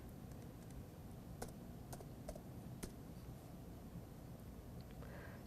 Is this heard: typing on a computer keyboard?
yes